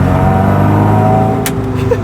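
Pepped-up Austin A35 van engine pulling hard under acceleration, a loud close buzzing drone with steady tone and a brief sharp hiss partway through, no talking.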